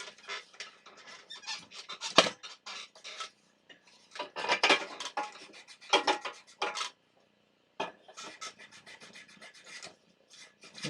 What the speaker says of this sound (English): I need to invest in a less noisy chair.